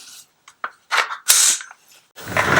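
A gun's charging handle is released to chamber a round, producing a quick series of sharp metallic clicks and clacks. One loud slam is followed by a brief rattle, close up and without talk.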